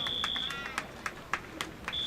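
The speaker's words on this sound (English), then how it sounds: "And the fire alarm is back on." Fire alarm in a sports hall during a water polo game, a piercing steady tone that cuts out and resumes, with sharp rhythmic clacks pulsing through it at roughly even intervals.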